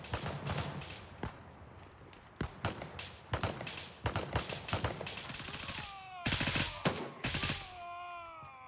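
Rapid bursts of gunfire in the shooter game Gray Zone Warfare, a string of loud sharp shots with short gaps, ending in a couple of heavier blasts with a whining ring after them.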